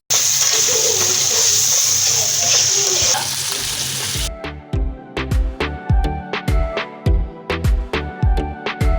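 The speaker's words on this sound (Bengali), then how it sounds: "পানি দিয়ে দিলাম।" Water goes into a hot cooking pan for an egg curry, first with a loud continuous sizzling rush, then giving way to a run of sharp rhythmic clinks and scrapes of stirring in the pan.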